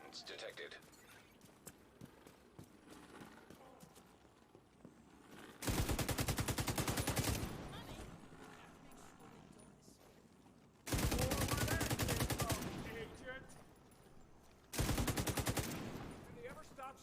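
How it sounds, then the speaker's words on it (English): Close, loud bursts of automatic gunfire in Tom Clancy's The Division 2, three long sprays separated by quieter stretches with distant shots and talk. "Did they ever stop shooting?"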